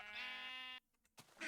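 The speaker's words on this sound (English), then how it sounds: "I got a rainbow sheep farm." Sheep bleating on a rainbow sheep farm in Minecraft, one long clear video game bleat followed by a short pause and then the start of another bleat.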